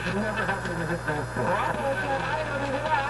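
An AM station picked up slightly off frequency on a Radio Shack DX440 receiver comes through as garbled, distorted broadcast voices over a steady low hum and static.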